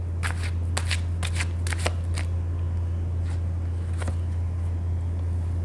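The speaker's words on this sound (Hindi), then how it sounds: "जब तक मैं कार्ड शफल कर रही हूँ" Tarot cards being shuffled by hand in quick riffling bursts, several clustered at the start and a couple more later, over a steady low hum, with no talk.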